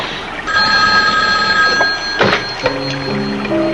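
Old telephone bell ringing, two loud trilling rings close by, with a sharp clatter between them as the receiver is lifted.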